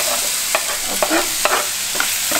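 Fresh tomato going into a pan of browned onions and fresh peas, a steady sizzle with several sharp stirring scrapes spaced through it, close and fairly loud, with a brief word spoken.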